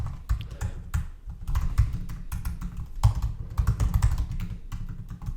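Rapid typing on a computer keyboard while entering commands in a console, a steady run of close, crisp key clicks in bursts with short pauses, heard alone without talk.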